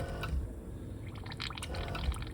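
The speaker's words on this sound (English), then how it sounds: "I'm just loosening up inside there. It's called back blowing." A GAAHLERI GHAD-68 airbrush being back-flushed on low air pressure bubbles and gurgles the Quick Shine paint in its cup, a close, wet churning with a few soft pops.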